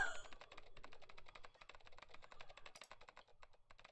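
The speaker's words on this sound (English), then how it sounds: "Typing so fast, I can't even see your fingers" Rapid keyboard typing in the video game Nine Hours, Nine Persons, Nine Doors: a fast, steady stream of light clicky keystrokes, close and fairly quiet, with no voices over it.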